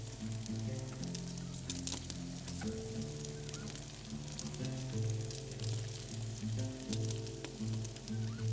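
Buns cook over a campfire, giving a steady, busy sizzle and crackle with a low fire rumble that runs on continuously without a break.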